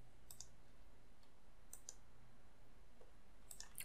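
A mouse button clicks to send a message in a webmail bulk mailer: three faint, crisp clicks spaced a second or more apart over a low, steady hum in a quiet room.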